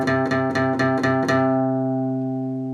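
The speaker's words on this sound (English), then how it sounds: "place it on the 8th fret of your low E string. You're going to play it 8 times as well" An electric guitar picks the 8th fret of the low E string in a quick, even burst of repeated notes, then lets the last one ring out and fade. Close, clear and alone.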